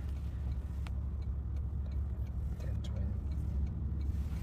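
Road traffic heard from inside a car stuck in slow traffic in the Philippines, a steady low cabin rumble with faint clicks and knocks, while a voice talks intermittently over it.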